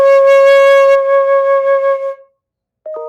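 A single sustained flute note C rings clearly, fades out, and after a brief silence another short note begins.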